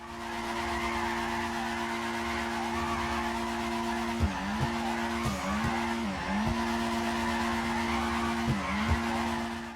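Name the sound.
car drifting with tire skid in GTA 5 video game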